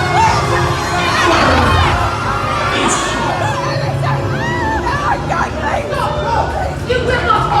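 Children shout and scream amid a loud, dense crowd of cheering and chatter aboard the Star Wars Galactic Starcruiser as Kylo Ren boards, with sustained noise throughout and several sharp high-pitched cries standing out.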